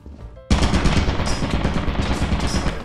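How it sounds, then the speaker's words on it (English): An automatic turret in the video game Lethal Company opens fire after a sudden start, unleashing a loud, sustained rapid burst of machine-gun shots that continues without pause. "You just set off the auto turret."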